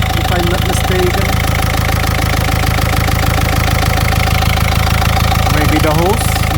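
Renault Megane Mk2 1.5 dCi diesel with over 238k miles, its engine running steadily with a mechanical knocking clatter and a faint rising whine near the end, loud and continuous with no voices.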